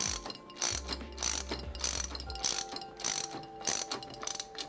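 Wheel screws on a Newbee 4GS scooter are tightened with a ratcheting tool, giving repeated quick clicking bursts in a steady rhythm, close and fairly quiet, with no talking.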